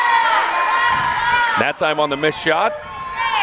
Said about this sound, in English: Crowd behind us imploring them to be smart, not foul unnecessarily.